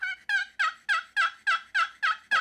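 A hunter's turkey call imitates a turkey searching for its flock: a run of nine evenly spaced, loud, close yelping notes, each rising then falling, with no talking.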